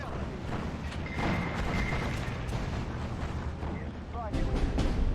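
Bombing explosions in the World War II strategy game Steel Division 2 rumble in dense, repeated bursts, with a continuous roar swelling louder toward the end and radio chatter underneath.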